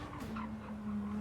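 In the Gran Turismo racing game, a car brakes hard into a corner, giving a brief sustained tire squeal over a low engine drone at moderate volume.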